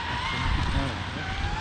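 A large-scale FG Porsche Rothmans 4x4 RC car with a Castle Monster-X 8s motor, its soft tyre sliding through a bend, gives a short, loud, rising squeal with a harsh buzzy edge, and a voice seems to mimic the screech.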